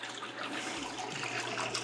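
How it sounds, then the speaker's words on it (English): Beer wort from a home brew of bourbon barrel aged pumpkin beer trickles and drips as it drains, a soft, steady close-up liquid patter with gentle splashing, no talking. "We're gonna let this drip for a little while"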